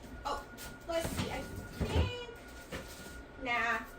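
A house cat meowing several times in short, rising cries amid cupboard or door knocks and a person talking nearby, the calls close and clear.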